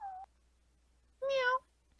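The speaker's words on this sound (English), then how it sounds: "She was meowing in her sleep." A sleeping cat gives two short, soft meows: a brief one at the start and a slightly longer, more tonal one a second later, both close and quiet against a low background hum.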